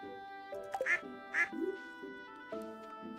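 Ducks quack in the Stardew Valley farming game, a few sharp quacks over a soft background melody, with someone talking briefly in between.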